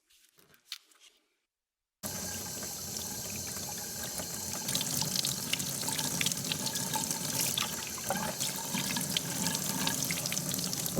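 A tap runs steadily for a rinse, a loud continuous splashing of water after a brief quiet start with a few small knocks.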